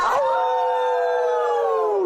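A crowd of people at a lively Saturday-morning fitness class howls together at the moon: one sustained, loud, wavering chorus of voices imitating wolves, holding a steady pitch for about two seconds before tapering off.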